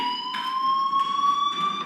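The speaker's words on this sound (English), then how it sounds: "do you hear that fire alarm?" Fire alarm ringing in the Life is Strange video game, a steady high electronic tone with bright harmonics, sounding continuously at moderate loudness with slight pulsing bursts of noise, no voices.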